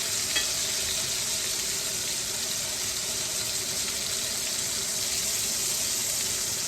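A pork chop sears in a hot pan, giving a loud, steady, unbroken sizzle that stays even from start to finish with no speech.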